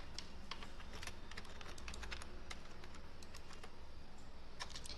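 Fingers type on a computer keyboard while entering a marksheet heading in Excel, a quick uneven run of light clicks and key taps heard close, with no voices.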